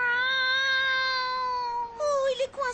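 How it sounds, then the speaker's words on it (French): A poor little cat stuck up high lets out one long, drawn-out meow, then a few shorter, broken mews close by. "il y a un pauvre petit chat qui a besoin de nous"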